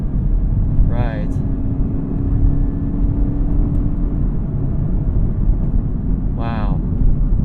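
A 2021 Chevrolet Camaro ZL1 with a supercharged engine roars steadily through its gears, a continuous loud drone with two brief rising shift sweeps, while people talk over it.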